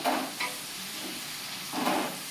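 Garlic slices and dried red chillies frying in hot oil for tomato pickle, a soft continuous sizzle with a couple of brief louder bursts as the pan is stirred, no talking.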